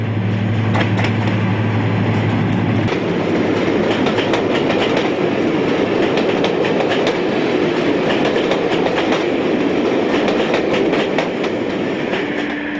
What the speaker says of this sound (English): 55017 approaches Newcastle in May